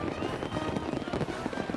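Fireworks on the Fourth of July, a dense, continuous crackle of rapid small bursts and pops, busy and fairly loud throughout the short stretch with no voices.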